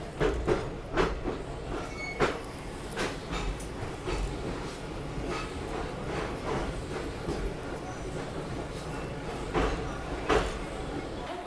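The Ajmer–Jammu Tawi Pooja Express stands at Jammu Tawi station, with rhythmic clacks and thumps of rail cars and platform noise under a voice.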